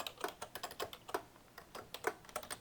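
Rapid typing on a computer keyboard, a quick irregular patter of distinct key clicks close by, with no voices.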